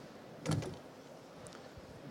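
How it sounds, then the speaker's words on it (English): A VW T6 money transporter's side door unlatches and opens, with a firm mechanical clunk followed by a brief quieter click, heard alone at close range. "I can press the button for the side door"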